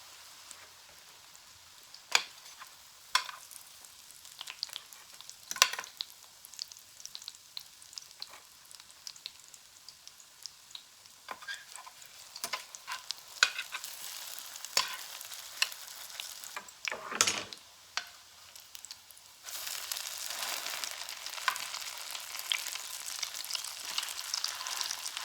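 Zucchini latkes fry in a pan with a thin, crackling sizzle that runs throughout, with scattered pops and spatters, growing louder and denser toward the end, no talk.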